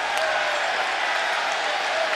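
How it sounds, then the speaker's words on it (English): Basketball arena crowd at a Louisville at Notre Dame NCAA men's game roaring and applauding, a steady dense wash of noise with no breaks, loud and enveloping. "Crowd's going crazy."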